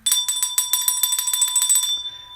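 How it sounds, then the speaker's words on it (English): A bell rings rapidly in a quick run of bright metallic strikes for about two seconds, loud and close, then stops abruptly. "I'm going to ring the bell right now."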